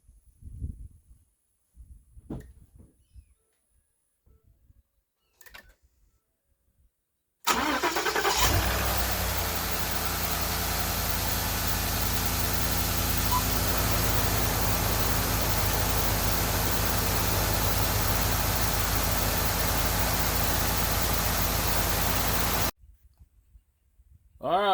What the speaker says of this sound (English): let's crank it up, see what happens